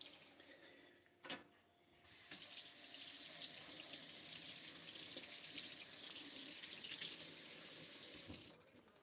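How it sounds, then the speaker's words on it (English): Hot water runs steadily from a kitchen tap and pours down the sink drain along with cooking oil, a loud continuous splashing rush lasting several seconds, preceded by a few brief clunks. "Make sure all that hot water goes right down the sink with that oil so it lubricates the PVC pipe."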